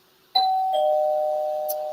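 A doorbell rings once with a bright two-tone ding-dong, the second tone sustaining and slowly fading in an otherwise quiet room.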